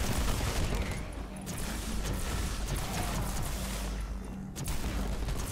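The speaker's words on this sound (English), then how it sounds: "Ooh, turret crossfire." Turret crossfire in the video game Warhammer 40k: Inquisitor - Martyr, a dense, continuous roar of rapid gunfire and booming impacts that holds steady and loud throughout, with no pauses.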